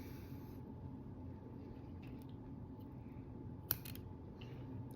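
A single quick scissor snip cuts thread while tying a glass bead steelhead jig, one sharp click heard close against a quiet background hum.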